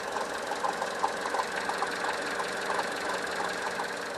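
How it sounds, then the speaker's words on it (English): A Vauxhall Corsa 1.2 A12XER engine idles steadily with a light, rhythmic juddering from the water pump at the top of the auxiliary belt area, a continuous mechanical tick-knock heard up close. "like a little juddering noise, which is coming from the auxiliary belt area, and actually it's coming from the top, and the top is the water pump"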